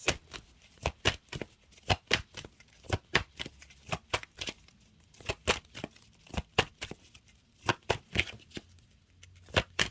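Oracle cards being shuffled for a reading, a series of crisp riffling bursts repeating in a loose rhythm at close range, with a few quiet pauses between them.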